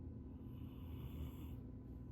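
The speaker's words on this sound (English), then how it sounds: "She is snoring so loud right in my ear" A pet dozing right beside the listener snores softly and steadily, a low, rough breathy rumble that continues without pause, close but faint.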